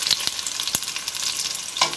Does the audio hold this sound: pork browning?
yes